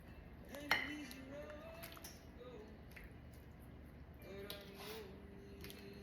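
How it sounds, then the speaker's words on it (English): Sliced potatoes being scooped into a baking dish for cheesy scalloped potatoes, with a few sharp clinks of a utensil against the dish and soft scraping, while a person talks quietly over it. "now we're gonna scoop some potatoes in there on the bottom"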